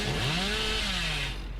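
A Hillbilly's chainsaw revving in the video game Dead by Daylight, with a loud, rising mechanical whine that bends up and then slides back down over about a second and a half, standing alone without talk.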